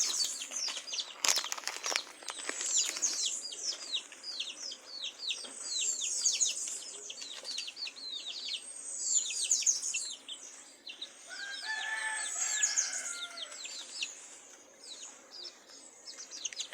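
Domestic chickens, a hen with five chicks, keep up steady chirping and soft clucking calls, with a brief burst of wing flapping near the start, all fairly faint outdoors with no talking.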